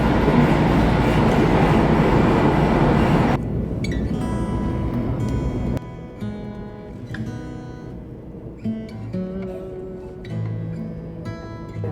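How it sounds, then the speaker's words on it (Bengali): The Kanchankanya Express thunders past at close range in a loud, dense roar of rushing wheels and rail noise. It then drops away into lighter rhythmic clatter and rattling as the train recedes. "কাঞ্চনকন্যা এক্সপ্রেস ক্রস করছে।"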